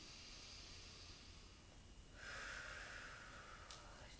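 A single quiet breath drawn in through the nose during a relaxing shoulder-pain posture exercise, a soft hissing inhale starting midway and holding steady, close and faint, with no talk.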